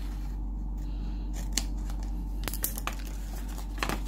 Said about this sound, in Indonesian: kemudian belakangnya juga digunting